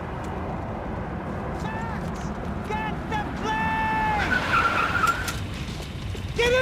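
Tires squeal and skid from a car being driven hard in the video game Max Payne 3, with drawn-out screeches over a steady engine and road rumble, while voices talk over the action.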